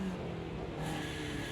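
Ginetta G40 race car engine in the video game Automobilista 2 at Brands Hatch, a short steady engine drone with a quick throttle blip that lifts the pitch briefly.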